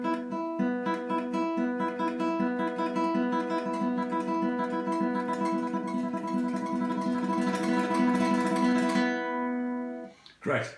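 Fast tremolo is picked on a guitar's B string with the thumb, making a dense, even stream of rapid repeated notes that rings clearly for about nine seconds and then stops abruptly.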